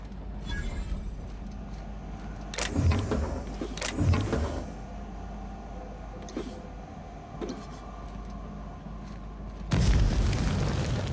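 Bursts of plasma rifle fire in The Outer Worlds, several sharp loud blasts around the middle and a heavier boom near the end, set over a steady low game-ambience hum.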